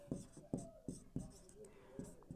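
Chalk or marker writing on a board during a profit-and-loss maths lesson, a series of faint scratchy strokes in an uneven rhythm, with soft speech murmured alongside.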